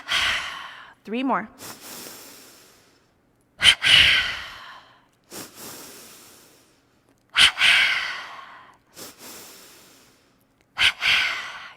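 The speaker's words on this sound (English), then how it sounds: "Double inhale through the nostrils. Double exhale through the mouth." An instructor leads energizing breaths, a sharp double inhale through the nostrils followed by a long double exhale through the mouth, repeated in loud, evenly spaced cycles, with a brief spoken count between them.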